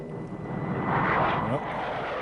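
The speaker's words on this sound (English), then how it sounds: "I think they're enemy planes, sir." Enemy planes approach in a film scene, a broad droning aircraft-engine roar that swells toward the middle and holds steady under a voice speaking over it.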